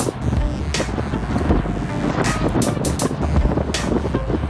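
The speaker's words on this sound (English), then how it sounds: "The wind is coming from behind and to the left." Road cycling in a group pace line with wind coming from behind and to the left, heavy wind buffeting the microphone continuously with gusty roaring surges and low rumble, no voices.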